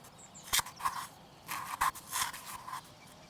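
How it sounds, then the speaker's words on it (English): A toothbrush scraping plastic in a video game demo: short scratchy strokes in uneven bursts, close and fairly quiet, with no talking. "the very nice sound of the toothbrush scraping the plastic"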